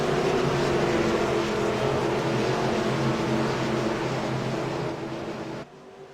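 Race car engines roar together at close range as a field accelerates on a restart just after the pace car pulls onto pit road, a loud sustained drone that drops off abruptly near the end.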